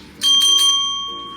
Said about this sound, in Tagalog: Ayan, mag-ring a bell tayo.